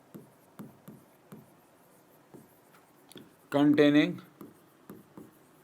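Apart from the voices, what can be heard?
writing on a board during a physics lecture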